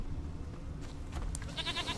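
In The Witcher 3, a goat lets out a short wavering bleat near the end, faint against a low rumbling game ambience.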